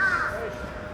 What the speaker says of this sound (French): Les corbeaux qui viennent ramasser les restes de soirée.